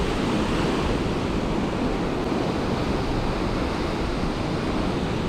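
Sea waves washing steadily onto the shore while someone fishes from the bank at sea, a dense continuous rushing wash with wind noise on the microphone and no voices.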